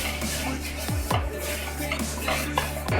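A paper towel wipes excess canola oil around a pan, giving soft scraping and light metallic scuffs in a few repeated strokes, close up and without talk.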